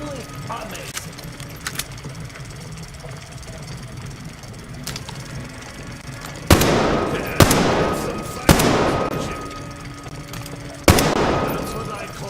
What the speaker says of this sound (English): That's what I call real shooting.